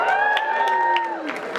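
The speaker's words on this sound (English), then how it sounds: "Cheer if you're pumped about this, all right?" Convention crowd at New York Comic Con cheering for Alexander Siddig as Doran Martell, a loud sustained mass of shouts and high whoops with scattered clapping, heard up close.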